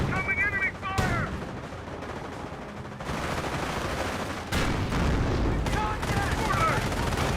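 Gunfire in the strategy video game Company of Heroes: repeated rifle and machine-gun bursts with booming impacts in clustered waves, mixed with battle noise and in-game voice calls.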